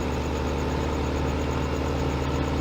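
A farm tractor engine idles steadily, a continuous low throbbing rumble with an even mechanical pulse, close and loud, with no talk.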